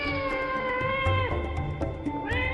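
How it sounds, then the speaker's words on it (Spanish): A cat meows repeatedly, a drawn-out wavering yowl with harmonic pitch glides, near and fairly loud, with no speech over it. "tenía miedo al gato"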